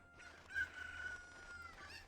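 Cuckoo chickens in the video game The Legend of Zelda: Ocarina of Time give a faint, thin, drawn-out clucking cry, alone and quiet.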